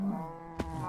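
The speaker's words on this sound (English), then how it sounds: "Come on, cows." A cow lowing in the block-building game Minecraft, one low drawn-out moo heard close and clear, with a short thump partway through.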